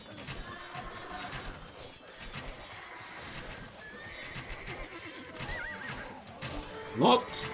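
Cavalry horses in a strategy video game give repeated whinnies and snorts amid clattering hooves and battle noise, ending with a loud, rising neigh near the close. A voice talks underneath.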